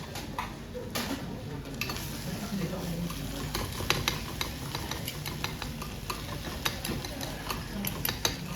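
Ingredients seasoned with salt and pepper being stirred in a bowl in a Tokyo hotel tapas bar kitchen, a steady run of clinking, scraping strokes with bursts of ticking clatter under voices in the room.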